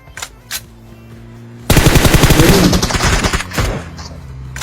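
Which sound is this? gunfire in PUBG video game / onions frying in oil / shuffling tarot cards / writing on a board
gunfire in PUBG video game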